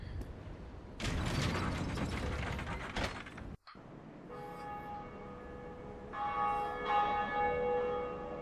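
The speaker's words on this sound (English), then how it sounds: "other players can actually hear you ring the bell" In the game Dark Souls, the Bell of Awakening is rung amid clanking gear and ratchet mechanisms, with loud metallic bursts, a brief pause, then sustained ringing bell tones that swell and layer toward the end.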